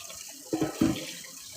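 Cold tap water runs over eggs in a kitchen sink, a steady close hiss with a couple of heavier splashing surges in the middle.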